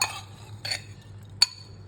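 A spoon clinks against a bowl while food is stirred, three light, bright metallic taps close by, the last one sharpest, with no talking over them.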